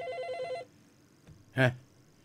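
The tail end of a trilling telephone ring fades out after about half a second, followed by quiet and then a brief voice sound nearby.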